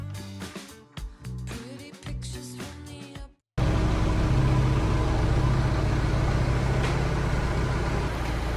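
In a garage, a car engine runs with a steady, loud idling drone, held for about five seconds after a brief stretch of music ends abruptly.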